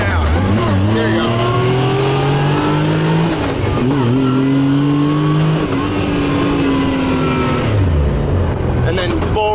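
A manual car's engine revs up and down loudly as gears are shifted with the clutch, pitch climbing then dropping at each change, close and continuous, with a voice talking over it.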